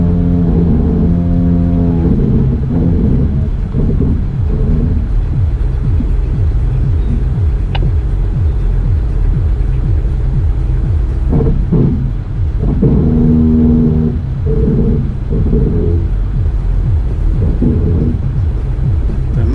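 A Jeep Cherokee crawls slowly over a rock trail at Windrock Park, its engine a loud, steady low rumble with brief scrapes and clunks from the rocks, no voices.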